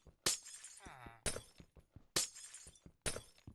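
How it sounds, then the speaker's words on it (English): Glass breaking in the video game Minecraft: four sharp, crisp shattering bursts spaced about a second apart, close and alone, with a short voiced sound between the first two. "Nothing quite like the sound of breaking glass in Minecraft to make you just want to, you know, go insane."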